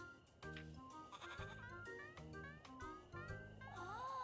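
A goat in the video game Little Goody Two Shoes bleats in a series of close, nasal, wavering calls, several in quick succession with short gaps, heard alone.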